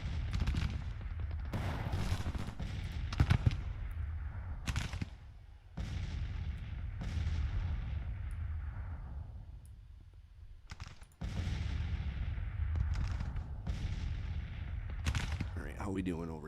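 Artillery fire in the Grand Tactician video game at the Battle of Gettysburg: loud, dense booming volleys and crackling gunfire roll on continuously, with brief lulls between heavy bursts.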